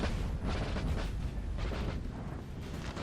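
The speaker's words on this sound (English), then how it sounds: "you guys are about to return fire" Massed musket volleys and cannon fire in a Napoleon: Total War battle, a dense, continuous rumble of overlapping booms and crackling shots with no quiet gaps.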